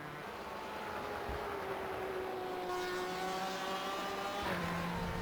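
GTE race cars, a BMW and a Porsche, at Watkins Glen in the iRacing game, a steady high engine whine that rises and falls through gear changes, with a second car's engine passing near the end.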